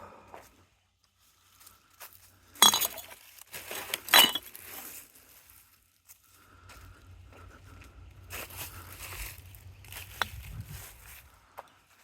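Old glass bottles from the 1980s, Gatorade, Minute Maid and Pepsi, pulled from a roadside ditch clink together in two sharp, bright knocks, followed by quieter rustling and a low rumbling shuffle.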